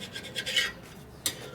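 A dull scraper rasping across the rough surface of an engine case in a few short, uneven scratchy strokes, close and fairly quiet, with a sharper scrape near the end.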